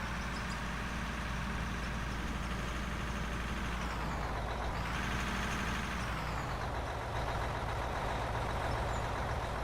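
Heavy haul truck in an underground iron mine mining game, its engine droning steadily with a low rumble, backing up and turning under continuous machine noise.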